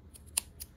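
Thread snips cut through two layers of fabric for a handmade drawstring pouch, giving a few quick, close, crisp snipping clicks with one sharp cut in the middle.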